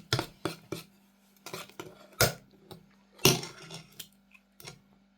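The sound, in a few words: stirring eggs quickly for a honey cake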